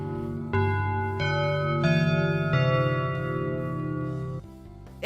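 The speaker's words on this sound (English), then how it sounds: "the sound of a bell permeates throughout the school" A school bell chime in the video game Gaikokujin No Sensei plays four sustained, bright tones one after another, each ringing on and blending into a loud, clear melody that fades at the end.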